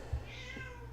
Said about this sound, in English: Stupid cat in the background, I swear.